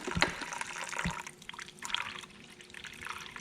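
Diesel fuel, pushed by a hand primer through the lines of a Caterpillar diesel engine, trickles and drips into a cup, a soft uneven liquid patter near the mic with no talking.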